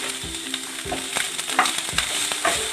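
Cabbage and capsicum, cut into long strips, frying lightly in a pan at home with a steady close sizzle, broken by repeated scraping clatters of a spoon stirring the vegetables.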